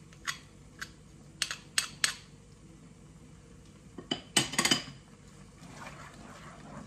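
Vegan Marsala mushrooms being stirred in a pan, a series of sharp utensil clinks and scrapes against the pan spread across several seconds, with a cluster of quick clatters near the end and faint wet movement between.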